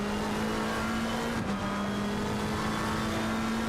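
A race car in a racing video game at Brands Hatch throttles out of a corner. The engine note is loud and steady, with a brief dip midway before the drive resumes, and there is no voice.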